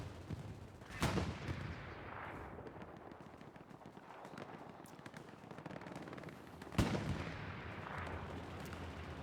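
Gunfire in the WWII shooter Hell Let Loose: two heavy booming shots stand out over a continuous rumble of distant battle with scattered smaller reports.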